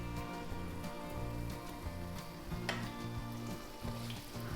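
Small balls of sweet dough frying in hot oil in a pan, a dense continuous sizzle and crackle at moderate volume with no voices.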